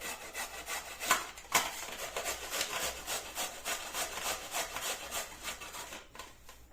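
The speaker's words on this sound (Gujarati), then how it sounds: "તો આ રીતે બધા ગાજરને છીણી લેવાના છે।" Carrots being coarsely grated by hand on a grater for Gujarati gajar halwa, a steady, close scraping rasp of repeated strokes that continues throughout without talk.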